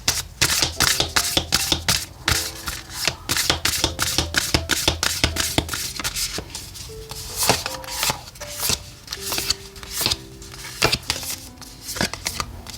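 Oracle cards being shuffled by hand in a weekly tarot reading, a steady run of crisp riffling and flicking clicks over soft background music with sustained tones.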